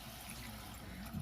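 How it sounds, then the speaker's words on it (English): Water pouring steadily into a pot of rice with bouillon on a home stovetop, a continuous soft splashing trickle that swells slightly near the end, close by with no talking. "And then we're going to add our 1 cup of water."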